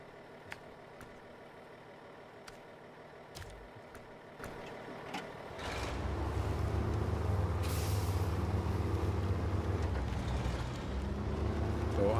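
A truck crawls slowly in the SnowRunner video game, moving from quiet ticking and clicks into a rising, continuous engine rumble with a hissing burst partway through.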